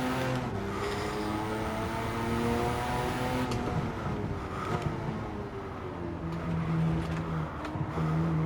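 Race car in Gran Turismo 7 revving and accelerating hard through several gear shifts, engine note climbing then easing, loud and continuous with no speech.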